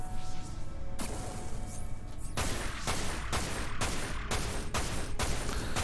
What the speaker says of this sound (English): Well, who is shooting me from above?